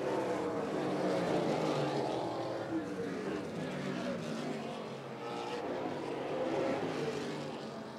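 A pack of race cars roars past in a tight nose-to-tail battle for the lead at New Paris Speedway, with a dense, steady engine drone filling the air and an announcer talking over it.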